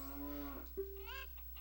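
A cow lowing in Zelda: Majora's Mask, two short drawn-out moos in a row over a steady low hum, fairly quiet.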